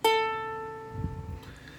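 A single ukulele A string plucked for tuning rings out clearly and alone, a bright sustained note that slowly decays, with faint low handling noise toward the end.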